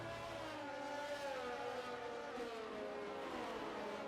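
Race cars circling a track in a racing video game at the Mexico round, a faint continuous engine drone with a slowly shifting, slightly falling pitch as the field runs together, no talk.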